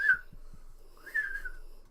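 A person whistles to imitate an eerie whistle heard inside a haunted building: two sustained mid-pitched whistled notes, the second longer and gently wavering, close and clear, with soft breathy bumps between them.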